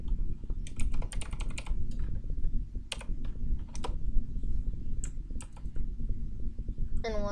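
Rapid, steady clatter of computer keyboard keys as code is typed, close and continuous with short pauses, ending in a brief higher tone.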